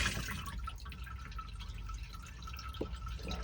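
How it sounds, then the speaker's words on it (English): Flush fluid pumping through the toilet of a Devon Monte Carlo caravan gives a steady, low watery rush with faint trickling, continuous and close throughout. "if I press this blue button here, flush fluid pumps around"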